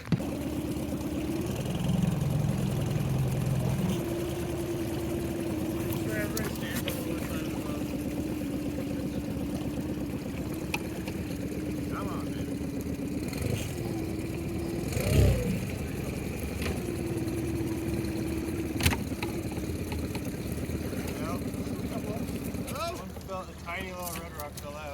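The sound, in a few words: boat engine running for spearfishing trip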